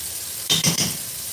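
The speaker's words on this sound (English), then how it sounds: "let me put the garlic in here and the chili" Minced garlic and chili hit a hot pan for a brief burst of sizzling, with a clink of a utensil against the pan, close and fairly loud, then quiet.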